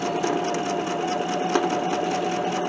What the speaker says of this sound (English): I'm sewing right off.